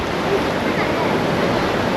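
Salty hot spring water flows down from a mountain, a steady, loud rushing hiss with no breaks, heard up close.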